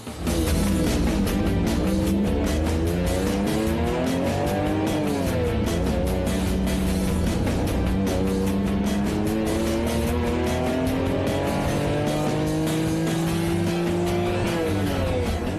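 Race car engine revving loud and close, rising and falling through gear changes with tire squeal, a continuous roar throughout with no voices.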